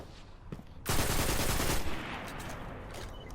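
Shotgun fire in Destiny 2 gives a loud, abrupt blast that turns into a dense roar lasting about a second, then a sustained rumbling tail, over a steady background of game noise, with no talk.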